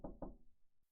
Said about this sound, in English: I knocked on the door